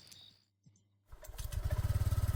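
A motorbike engine in the video game No Way Out cranks after a brief quiet, catches and revs into a loud, pulsing rumble that grows steadily, close and clear with no talking over it.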